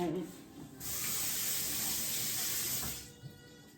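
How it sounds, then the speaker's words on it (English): A metal spoon scraping the skin off a piece of fresh ginger, a steady rough, hissy scrape lasting a couple of seconds, close up, with quieter handling before and after. "And then I just take a spoon and scrape it down."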